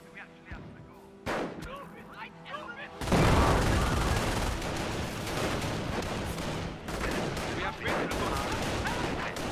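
Gunfire and mortar blasts in the World War II strategy game Company of Heroes, scattered shots at first, then a loud explosion followed by dense sustained rifle and machine-gun fire, with speech mixed in.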